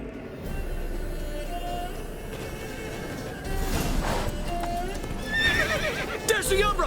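A horse gallops with steady rapid hoofbeats and neighs sharply toward the end in The Witcher 3, the clip-clop driving continuously at close range while a voice calls out over it.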